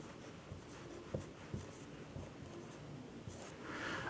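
A pen scratches across paper while writing the name Manoj by hand, a quiet series of short scraping strokes with small taps at irregular intervals and no talking.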